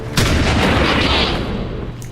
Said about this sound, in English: When in doubt, send in the guy with the shotgun.